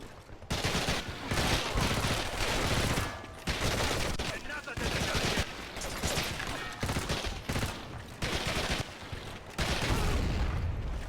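Dense gunfire and explosive bursts in the Medal of Honor: Heroes video game, with rapid rifle and machine-gun fire and booms in loud clusters separated by brief lulls.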